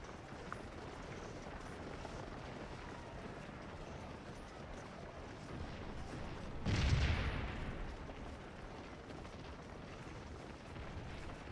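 Faint battlefield ambience in Scourge of War: Gettysburg, broken by one distant artillery boom that swells and fades over about a second.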